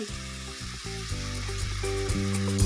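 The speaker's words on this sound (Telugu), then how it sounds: "ఇలా మెత్తగా అయిపోయేదాకా ఫ్రై చేసుకుందాం" Spinach fries in oil in a pan until soft for a Telangana village-style chutney, with a soft continuous sizzle under a strong humming tonal background.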